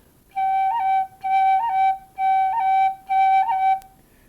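A tin whistle plays the note G four times in separate held phrases, each opened with a quick cut ornament flicking to a higher pitch, clear and close with no talking.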